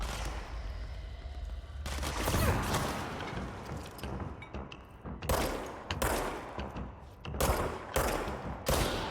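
Bursts of gunfire in the video game Control: loud, dense volleys of rapid shots and impacts arriving in clusters, with short gaps between the barrages.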